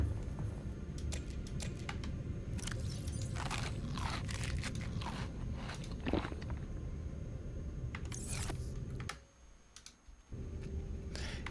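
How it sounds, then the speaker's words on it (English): Crunchy, clicky chewing noises from the underwater video game The Deep, a steady stream of irregular wet crunches and clicks throughout, with a brief drop to near quiet before resuming. "the sound of someone chewing in my ears"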